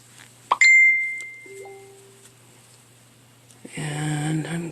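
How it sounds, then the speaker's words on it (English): A phone gives two short notification dings close by, the first clear and ringing, the second lower and softer, in a quiet room before other faint sounds begin. "And I'm getting notifications."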